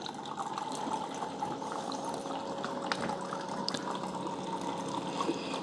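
A Keurig coffee maker streams hot chocolate into a cup in a continuous, steady pour with light gurgling and bubbling, close by and moderately loud.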